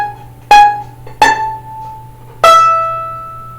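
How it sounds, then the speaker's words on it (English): Left-hand pizzicato on a violin's E string, plucked with the pinky. Three separate bright plucks ring out close and clear, each decaying into near silence. "all the pizzicato, since we're on the E string, will be on the E string with the pinky"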